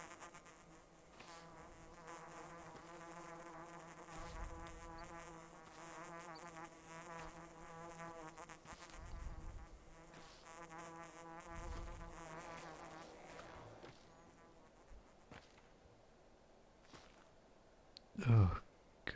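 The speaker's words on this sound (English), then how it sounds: "And these flies, what's fucking wrong with them? Just go away." Flies buzzing close by in a steady, wavering insect drone lasting over ten seconds, fading toward the end before a sudden loud thump, with no talk.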